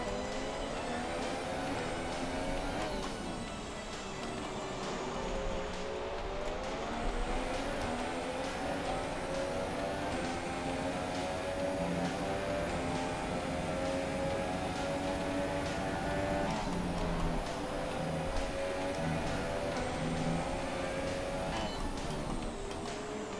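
An F1 car in the F1 2017 racing game at the USA Grand Prix screams at high revs, its harmonic whine rising and falling through repeated gear shifts, loud and continuous for the whole stretch.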